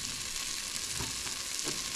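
Butter melts and sizzles in a pan with a steady, dense crackling hiss throughout, moderately close and without talk.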